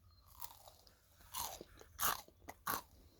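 Crunchy bean snack topped with horseradish pepper jelly being bitten and chewed up close, with several loud crisp crunches spaced irregularly between quieter chewing.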